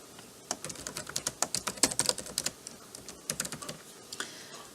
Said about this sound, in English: I can freeform a comment and enter it using my keyboard.